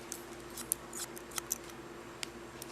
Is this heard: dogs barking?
no